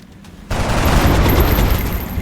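A burst of gunfire from a medic's weapon in XCOM Enemy Within (Long War) breaks out abruptly after a quiet start, a dense, loud rattle of shots that carries on to the end.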